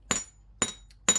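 A domed chasing hammer strikes wire three times in an even rhythm, each blow a sharp, ringing metallic tap, close and fairly quiet.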